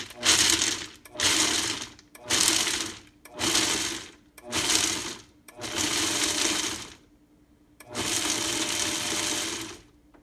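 A small blending bowl chops nuts in a series of about seven loud, close whirring pulses, each lasting roughly a second with short silent gaps, the final burst running longer.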